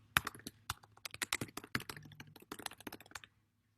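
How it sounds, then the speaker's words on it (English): Quick, uneven keystrokes on a computer keyboard as an email address is entered, close and crisp, a steady run of taps lasting about three seconds before falling silent. "You type in your email address."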